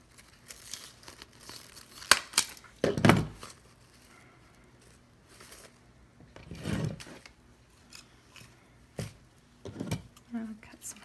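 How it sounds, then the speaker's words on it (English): Scissors snip through orange material for a homecoming mum backer, producing a few crisp crinkling cuts and rustles spaced apart. The cuts are fairly faint and close, with quiet handling noise in between. "I'll cut some of this orange off"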